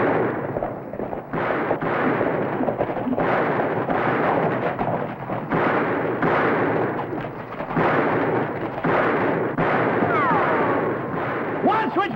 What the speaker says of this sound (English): Which way you shooting, Jason?